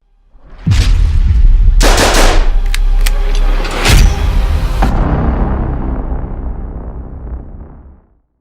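Several loud, close gunshots from an Arex Delta pistol on a range, two or three sharp reports within a few seconds, each trailing into a long ringing echo.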